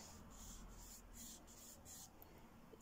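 Rubber eraser scrubbing a pencil sketch of a shell on paper, a quiet close-up rasping in several short back-and-forth strokes, with no talking.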